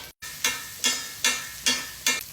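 A steak basted in a hot pan on high heat sizzles steadily, with five evenly spaced bursts of spooned fat hissing brightly, close and alone with no talk.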